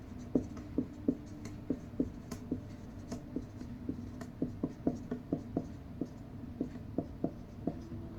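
A pen scratches out rows of numbers on paper, crisp regular taps and short strokes repeating close and clear at a brisk, even rhythm with no voices.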